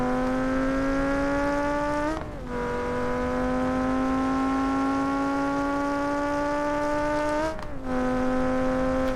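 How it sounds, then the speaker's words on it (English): A Vivace street car in BeamNG.drive revs at a steady high pitch, drops briefly as the clutch is dumped for a launch, then climbs and holds again with a second quick dip near the end, loud and without talk. "So let's just throw it into first, hold the clutch, and dump it"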